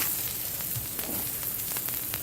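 Pork chops sizzle on a grill, bone side up, with a steady close hiss and faint crackles running unbroken and alone.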